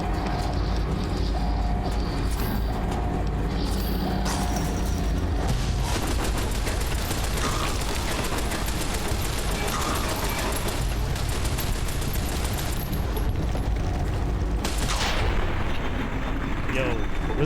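Gunfire from a weapon in Fallout: New Vegas, Lonesome Road: a dense, steady barrage of booming shots that blends into continuous battle noise, with a sharper burst late on.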